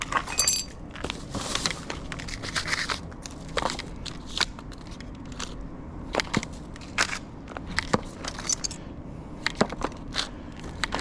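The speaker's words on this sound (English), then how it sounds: "Try and get this little bit of glass" Broken glass being gathered up off a street in Hayes, with scattered small clinks, scrapes and crunchy crackles alongside footsteps, fairly close, over a steady outdoor background.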